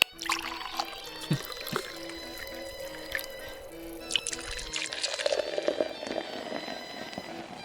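Liquid pours and drips into a pot of leaf soup in a video game, a splashy trickle with scattered drops alongside a faint, steady tone.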